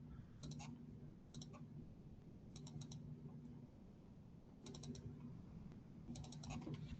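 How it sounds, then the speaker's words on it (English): Computer mouse clicks come in quick double and triple taps, several small bursts spread evenly over a quiet steady hum, with a faint voice low in the background. "Guess I'm not clicking well enough"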